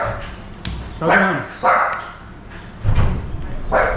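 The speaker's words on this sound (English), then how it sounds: "Guard dog." Guard dog in Thailand giving several short, yappy barks and yips at moderate distance, while a person speaks over them.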